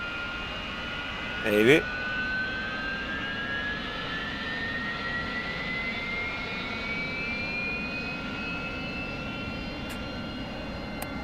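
Sustained roar of an AV-8B Harrier jet engine aboard an aircraft carrier, a loud steady whine with a rising pitch that holds for the whole stretch, with a brief burst of people talking near the start.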